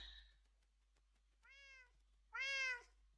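Two clear meows from a Minecraft cat, one shorter and softer, then a louder, longer one after a pause, alone with no talk.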